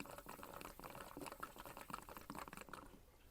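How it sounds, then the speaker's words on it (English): Water pouring out of a can onto a driveway, a soft splashing, gurgling stream in repeated uneven pulses, fairly quiet and close, fading toward a trickle at the end. "But if I open it, now it's pouring again."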